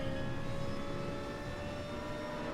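Airplanes fly over a racetrack in Gran Turismo Sport, a continuous droning engine roar with a steady tonal whine mixed into the race ambience, fairly even in level throughout.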